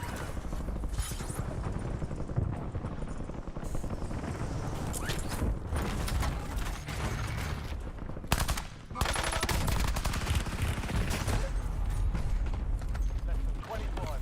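Dense gunfire in Warzone, with rapid automatic bursts and shots firing almost nonstop at high volume, plus a brief lull partway through, while people talk over the action.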